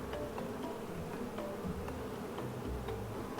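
An insect buzz sound effect plays in a guessing game, a steady faint droning hum with light ticking, lasting a few seconds with no talk.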